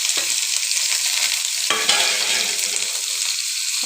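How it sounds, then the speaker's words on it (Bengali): Onions and dried chili frying in oil, a bright crackling sizzle with stirring scrapes and a sudden louder burst midway, close and continuous without speech. "তারপরে আমি দিব পেঁয়াজ। এই সাইডে আমি পেঁয়াজটাকে দিয়ে দিচ্ছি।"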